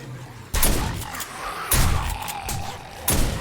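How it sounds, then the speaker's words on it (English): Three loud, booming shotgun blasts from the video game 7 Days to Die, spaced about a second apart, each followed by a short rumbling decay, close and prominent with no talk over them. "This shotgun."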